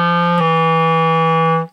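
A clarinet sustains a low F sharp fingered with the pinky key, one steady, clear, reedy tone held for well over a second and then released, played alone at close range.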